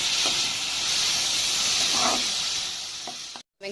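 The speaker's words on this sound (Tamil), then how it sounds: "இந்த வெங்காயம் வந்து ஒரு 3 நிமிஷம் வதங்கட்டும்." Sliced onions sautéing in a pan for a hotel-style Madurai veg parota salna, giving a steady, close, bright sizzle and hiss throughout, with a few soft stirring clicks and a brief cut near the end.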